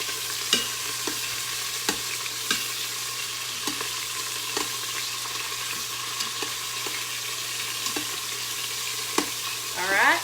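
Short ribs sear in an Instant Pot with a steady broad sizzle, broken by regular light scrapes and clicks of a utensil moving the meat, plus a low constant appliance hum; no one speaks.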